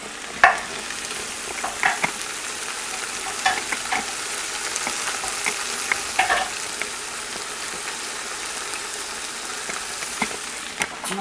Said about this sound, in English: I hear the soup is sizzling away there